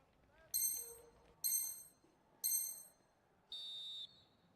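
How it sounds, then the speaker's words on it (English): A referee's whistle in an eFootball match sounds four times, three short shrill blasts and then one longer steady blast, under faint crowd ambience. "So the whistle then."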